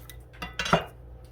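A kitchen knife slices the root end off an unpeeled garlic clove on a board, making a single soft, close cut with a small knock, with no talk during it.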